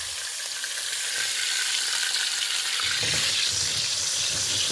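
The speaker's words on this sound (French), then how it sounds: "Et on va le laisser cuire dans son gras, tranquille." Meat cooks in its own fat in a pan, a loud, steady sizzle and crackle close up that grows busier partway through, with no voices.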